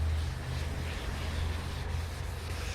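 Steady, continuous rubbing hiss of wet sanding on a Camaro Z28 fender, close and even with a low hum underneath, no talking.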